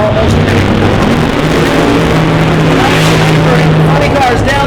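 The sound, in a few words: funny car drag racers racing down the track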